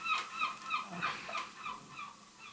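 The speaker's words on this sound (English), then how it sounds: "Wait for the seagull to go." Gull calls outdoors, a run of repeated harsh high cries in quick succession, moderately close and fairly loud, with no talk over them.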